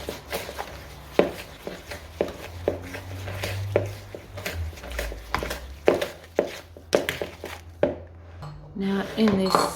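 Cookie dough for cumin seed cookie rings being mixed thoroughly in a bowl, with repeated scraping and clinking of a utensil against the bowl, close and fairly busy.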